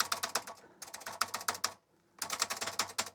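Rapid bursts of keys clattering on an Apple IIc keyboard, two quick runs of clicky presses, a short pause, then another burst, close and crisp with no voices.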